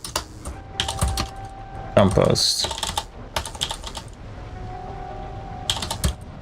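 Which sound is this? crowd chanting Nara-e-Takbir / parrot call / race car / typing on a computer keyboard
typing on a computer keyboard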